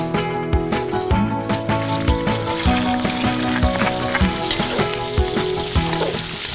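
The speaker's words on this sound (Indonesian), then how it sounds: "lalu ganti dengan menumis semua bumbu irisnya" Sliced spices are sautéed in a pan after lobster has been removed, with a dense, continuous sizzle and crackle and scattered clinks of a utensil stirring, close and loud with no voices.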